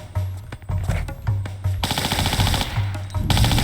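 Rapid automatic gunfire at a scorpion in Tomb Raider IV Remastered, loud repeated bursts of shots with a constant electronic hum beneath, the firing continuous and dense through the second half.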